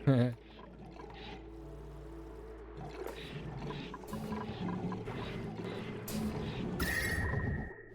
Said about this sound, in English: Because this is also a water geyser.